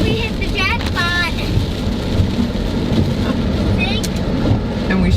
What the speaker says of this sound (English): we're back in the storm again